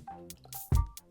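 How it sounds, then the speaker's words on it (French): Three egg whites poured into a Thermomix TM5 bowl that already holds sugar: a short, wet plop and squish near the end of the pour, heard close up with faint dripping around it. "Je rajoute mes blancs, donc mes 3 blancs"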